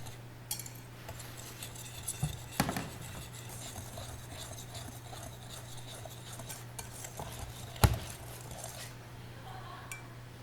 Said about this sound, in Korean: 미리 채친 밀가루에 달걀을 섞어 줄게요